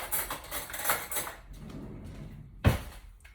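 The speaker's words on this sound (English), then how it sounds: "And I'm just mashing my potatoes up" A fork scrapes and clinks against a small casserole dish while mashing two potatoes, soft scraping strokes followed by one sharper knock, close and quiet.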